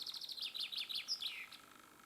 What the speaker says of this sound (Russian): Но вон певчая птица.